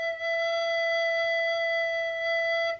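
A recorder sustains a single clear note E, steady and pure with a bright tonal quality, played alone and close for almost three seconds before cutting off.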